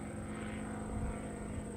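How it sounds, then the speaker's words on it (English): An airplane passes overhead during an EAA event, a steady droning propeller hum heard from a distance, faint and even throughout with no talk. "I also see there's a plane up in the sky."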